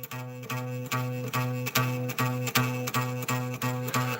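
A single guitar note, B at the 7th fret, is struck about ten times in a steady rhythm, each pluck ringing briefly with a slightly buzzing, rattling tone from a bowed neck; quiet and close, no voices.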